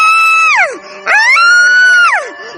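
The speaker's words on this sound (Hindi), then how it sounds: "ताबीज के गले में डालने पर वो लड़की चुड़ैल के रूप में आ जाती है और जोर जोर से चिल्लाने लगती है।" A witch in a Hindi horror story screams loudly and close by. Two long, shrill, wailing cries each slide downward in pitch, with a short gap between them.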